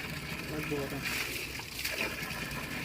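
Water being filled into a roughly 15-litre container at a forest campsite, a steady splashing trickle with sloshing surges, heard close under ongoing talk.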